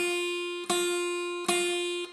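An F note on the first fret of the high E string of a guitar in a beginner lesson, picked cleanly about three times in a row, each note ringing bright and steady, close and alone with no talking.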